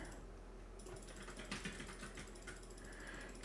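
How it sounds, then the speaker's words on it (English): Quick, faint clicking of a computer keyboard and mouse runs steadily in the background, irregular tapping under a low hum with no voices. "Heimpand is very active with his mouse and keyboard in the background"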